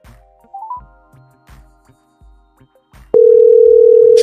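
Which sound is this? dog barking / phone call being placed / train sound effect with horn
phone call being placed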